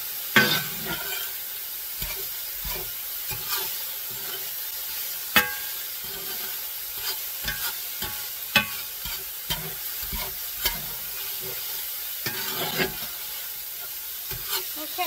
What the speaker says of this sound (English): I'm going to brown this meat